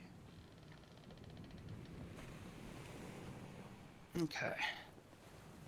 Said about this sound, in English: Right now, you should hear the lovely sounds of the sea.